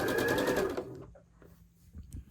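A sewing machine stitches fabric along a curved seam for a modern quilted piece, running in a loud steady whir for under a second before stopping, leaving only faint handling noises.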